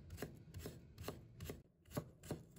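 A knife chops a peeled piece of fresh ginger into fine shreds on a cutting board in a home kitchen, with about seven crisp, evenly spaced strikes close up and no talking.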